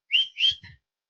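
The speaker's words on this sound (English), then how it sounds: "Don't want to get too loud in your ears with my whistle" A workout instructor's whistle gives two sharp, loud shrill blasts in quick succession, then a shorter, lower, rougher toot, all close by with no talking.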